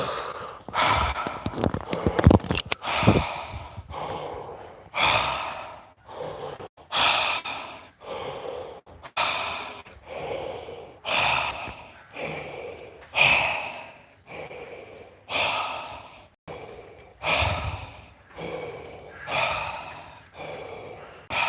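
Deep, rhythmic yoga breaths during a morning flow practice, steady inhales and forceful exhales repeating about every second and a half, close and clear with no talking.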